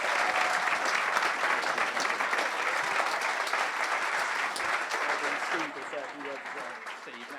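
An audience at a celebration event applauds Patrick Vieira with steady, dense clapping that holds for several seconds, then thins out and fades while a voice talks over it.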